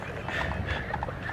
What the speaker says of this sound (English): Some nice looking horses.